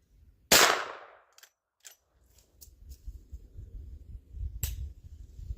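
A Rossi R92 lever-action rifle fires a .44 Special skeeter load outdoors: one loud, sharp crack with a short decaying tail, followed by faint lever and brass clatter, then a second, quieter report near the end amid low rustling.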